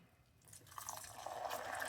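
A teaspoon of water poured into jaggery melted in ghee over a low gas flame, a soft faint bubbling and gentle sizzle that grows slightly louder, with no talking.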